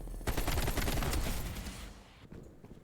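Rapid automatic gunfire from a weapon in Call of Duty Black Ops Cold War, a dense, loud burst of shots for about two seconds that then tapers off into scattered softer impacts.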